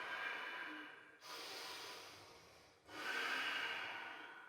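Slow, deep yoga breaths: a long airy inhale and exhale repeat in steady cycles, close and soft, with a faint nasal rasp and brief pauses between them.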